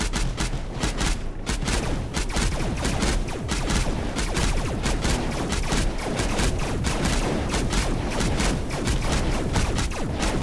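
Rapid, dense barrage of turret fire in the sci-fi strategy game Mindustry, continuous overlapping shots and booms filling the whole stretch at steady loudness with no talk.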